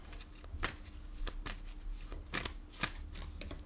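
Tarot cards shuffled in bursts of crisp riffling, five or six quick flurries at close range with a faint hum beneath and no talking.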